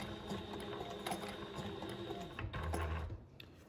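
A sewing machine fitted with a left zipper foot stitches a courier pouch, a steady close mechanical whir with rhythmic needle clatter that slows and shifts near the end.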